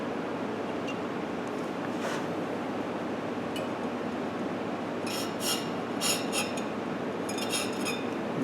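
Short bursts of raspy grinding as a Thorvie AV-40 sharpening machine grinds the flute of a hole saw, several separate scraping passes in the second half over a steady machine hum, with no talking.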